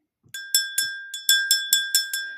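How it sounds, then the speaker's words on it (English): A small bell rung for a spiritual call: eight quick, bright metallic strikes in an uneven sequence, each ringing briefly with a clear sustained tone, close and alone with no talking. "I ring this bell"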